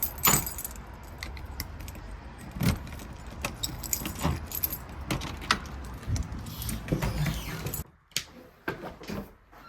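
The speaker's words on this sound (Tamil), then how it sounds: "ஸோ சாவி எடுத்தாச்சு." Keys jangle close by in repeated bursts as someone takes out house keys at the front door of a home in London, with rustling and brief knocks between the clinks.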